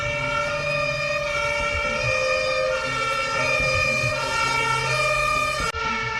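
A fire engine siren wails loud and steady with strong sustained tones over a rumbling motor, then cuts off abruptly near the end.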